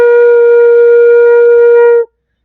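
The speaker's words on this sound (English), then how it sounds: "We'll start with B flat, the lowest note." A single sustained low B flat on a flute, the lowest note, held steadily and close for about two seconds with a clean tone before stopping abruptly.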